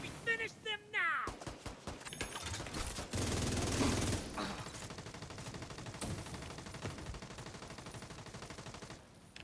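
Gunfire in a chaotic firefight: rapid bursts and sharp single shots crack repeatedly at close range, dense at first and then more scattered, mixed with shouting voices talking over the shooting.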